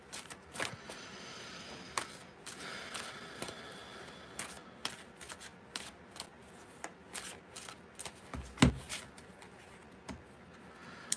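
Tarot cards being shuffled in a quiet room, a soft, steady run of papery riffles and slaps with a few sharper snaps, fairly faint and close, with no voice over it.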